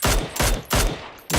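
Gunfire in the PUBG battle royale video game, three quick bursts of loud sharp shots in an even rhythm, with no talking.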